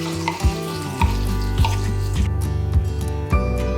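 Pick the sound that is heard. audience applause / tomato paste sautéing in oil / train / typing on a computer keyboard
tomato paste sautéing in oil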